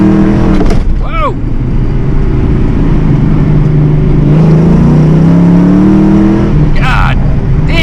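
A 1986 Ford Mustang GT accelerates hard in second gear, its engine a loud, close, rising drone that climbs steadily while someone shouts briefly at the start and end.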